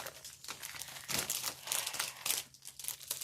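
A crinkly thread club envelope is handled up close, with irregular bursts of crisp paper-plastic crumpling and rustling.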